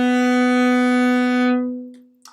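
A single bowed note B, fingered with the first finger on the A string of an orchestral string instrument, held steady and clear for about a second and a half before fading out.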